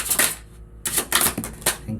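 Tarot cards being drawn and handled for a Taurus reading, giving a few crisp papery slaps and shuffles in short bursts, close and fairly loud, with no talk.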